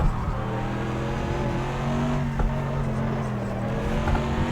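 A GT3 race car engine at Le Mans in a racing video game drones steadily at high revs while the car downshifts into second and brakes for a corner, loud and continuous with no voices.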